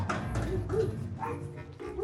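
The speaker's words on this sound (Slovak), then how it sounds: "Ďalší pes." A dog barks and yips on a street, short sharp calls close by while someone talks over them.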